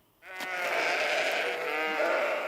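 Sheep bleating on a Gloucestershire farm: one long, loud, wavering bleat close by, rising after a brief quiet start and holding steady for about two seconds with no talk.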